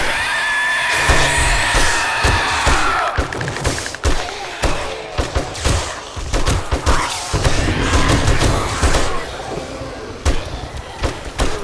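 Gunfire during a blood moon night in the video game 7 Days To Die, rapid loud shots in irregular bursts with thuds and impacts, close and dense throughout.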